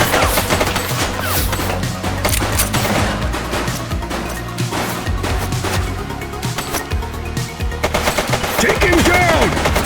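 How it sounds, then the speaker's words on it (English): Bursts of gunfire in The Precinct police video game, rapid automatic volleys and sharp single shots cracking loudly and continuously over a dense game mix, with crashes and impacts throughout and a brief faint voice. "Shots fired!"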